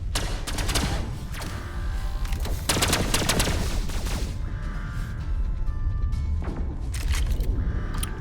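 Ship weapons in the space game Pulsar: Lost Colony fire in dense, rapid volleys of loud blasts and thuds, continuous and close with heavier bursts throughout.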